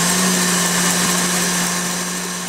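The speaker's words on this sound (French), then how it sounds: "Vous battez vos blancs en neige, et ensuite on ajoute un petit peu à la fois, à vitesse élevée, le sucre" Electric mixer whipping egg whites with sugar at high speed for meringue on a rhubarb tart, a loud steady motor whir with a constant hum and no pauses.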